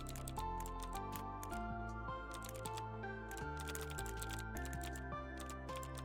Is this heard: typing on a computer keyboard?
yes